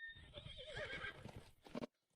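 A horse whinnies loudly and shrilly, then a brief burst of hoofbeats follows as a woman rides off on it, ending abruptly in silence.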